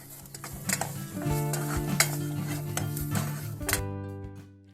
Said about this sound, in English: chopped garlic, ground cumin, and curry. Stir everything well.